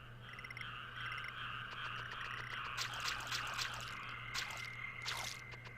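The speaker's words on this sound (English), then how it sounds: "Baby frog." A baby frog croaks in the Breath of Fire 4 video game, repeated rhythmic croaks and watery drips over a steady game background hum, fairly quiet.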